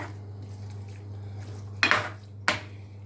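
A spoon clanks twice against a metal pot while curry is stirred, two sharp close knocks over a steady low hum in an otherwise quiet kitchen.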